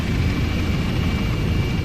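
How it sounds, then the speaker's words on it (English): A rescue helicopter hovering over dense bushland, a loud, steady rotor and engine roar close by with a constant thrumming low end, and no voices over it. "On board a helicopter hovering over the hinterland."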